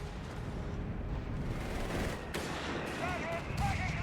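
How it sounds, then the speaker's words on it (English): Continuous rumbling barrage of British BL 5.5-inch artillery shelling a position in Company of Heroes 3, with dense overlapping booms and explosions throughout and no pause in the bombardment. "His position being bombarded by British artillery"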